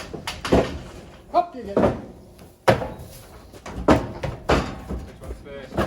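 A stuck farm door being wrestled open in a cow barn, with several loud, close knocks and thuds under frequent talk from people nearby.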